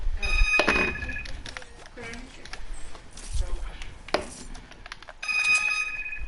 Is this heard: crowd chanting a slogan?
no